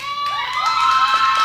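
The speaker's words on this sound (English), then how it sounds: "the crowd responded bigger than they ever have" Wrestling crowd at a ProSouth show cheering and shouting loudly, a dense sustained roar of many voices with whistles and high yells that swells slightly and holds throughout.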